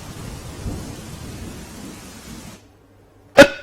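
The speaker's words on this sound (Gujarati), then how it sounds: "18 કલાકથી પોરબંદર શહેરમાં સતત વરસાદ વરસી રહ્યો છે" Heavy, continuous rain falls over Porbandar city after eighteen hours of downpour, a dense steady hiss that cuts off after a few seconds, followed by quiet and one sharp crack.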